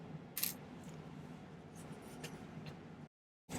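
A small saw cuts a piece of silver ring stock, making a faint, fine scratching rasp that goes on for a few seconds with a few sharper ticks, then stops.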